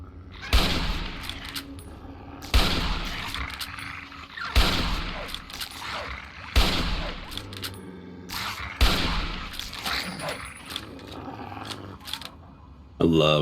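Hunting rifle fired in the video game Fallout 3, six loud, booming single shots spaced about two seconds apart, each trailing into a rumbling echo over low game ambience, with a voice talking between them.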